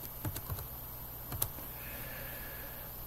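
Keys clatter on a computer keyboard in a few quick, light taps near the start and again around the middle, close and fairly quiet, followed by faint steady background hum.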